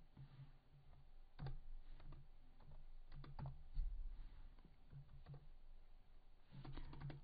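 Computer keyboard typing during Kotlin coding, scattered clusters of crisp key clicks separated by short pauses, close and fairly quiet, with a heavier thunk in the middle.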